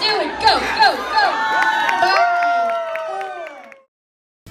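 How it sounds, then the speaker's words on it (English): A crowd at a student robotics competition cheers and shouts continuously with excited voices and bursts of yelling, holding loud for several seconds before cutting off abruptly. "Cheer them on, they can do it."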